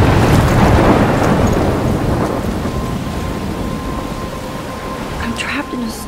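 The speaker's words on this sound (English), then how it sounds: "I'm trapped in a storm?" A video game thunderstorm in Life Is Strange: loud, steady roaring rain and wind with a rumbling thunder swell at the start, sustained and close.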